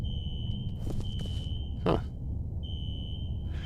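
A fire alarm rings in the video game F.E.A.R. as a steady high electronic tone that cuts out briefly and then resumes over a low rumbling background, with a short vocal grunt partway through.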